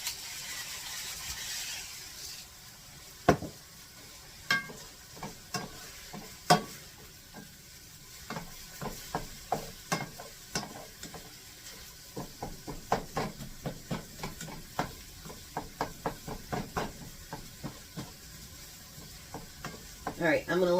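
Hamburger ground beef sizzles in a frying pan under a faint steady hiss, while a spatula scrapes and taps the pan in many sharp, irregular clicks that grow denser toward the end; no one speaks.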